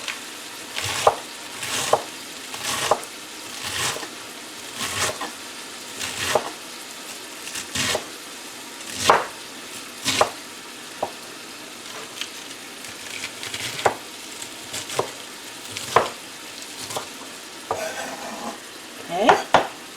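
Ground meat browning in a pan for haystacks, with repeated scraping and stirring strokes of a utensil against the pan over a steady sizzle, clattery and close, no talking.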